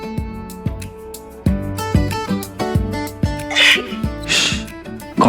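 A person sneezes twice in quick succession, breathy bursts rising over loud plucked dramatic background music with regular beats.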